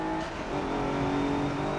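A race car engine in Forza 7 holds a steady high-pitched drone, revving close and loud on a downhill run at the Bernese Alps track, with no voices over it.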